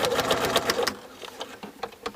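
A sewing machine stitches through a quilt template piece in a fast burst of close, rhythmic needle clatter, then slows to a few sparser, quieter stitches.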